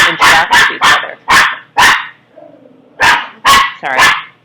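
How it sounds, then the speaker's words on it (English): Dogs bark at home in a loud, close burst of about nine sharp barks in quick uneven rhythm, broken by a short whimpering whine in the middle. "Dogs, cats. This is what happens when you record at home, right?"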